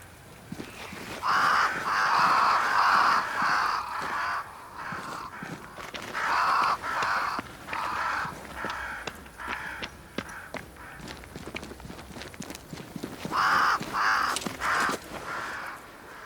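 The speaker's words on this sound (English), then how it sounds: "Crows. They flock to that great tree up there." Crows caw in the video game Banishers: Ghosts of New Eden, flocking around a great tree. Harsh calls come in three clustered rounds over faint footsteps and ambient ticking.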